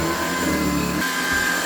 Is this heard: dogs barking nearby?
no